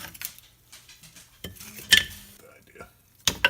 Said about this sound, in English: Now we're going to go ahead and put them in our crock pot and get ready.